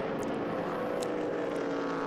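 A helicopter over the Paul Ricard circuit during a 2015 Blancpain Endurance Series endurance race gives a steady, loud droning whir that holds evenly throughout, with no talking.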